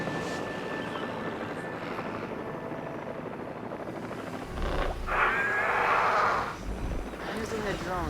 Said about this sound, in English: Using the drone.